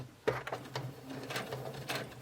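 A sewing machine top-stitches across plastic zipper teeth, a short sequence of quick mechanical clatters and whirs after a sharp opening knock, close and moderately quiet with no speech.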